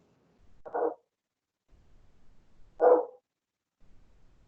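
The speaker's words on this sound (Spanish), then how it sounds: "Hay un perro ladrando por ahí" A dog barks twice a couple of seconds apart, short clear barks that sound somewhat distant through a microphone, with near silence around them and no talking.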